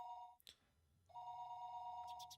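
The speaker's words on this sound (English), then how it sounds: "I noticed that the phone was ringing" An electronic telephone ring from the video game Higurashi When They Cry repeats in two steady bursts separated by a brief pause, clear and alone with faint clicks between.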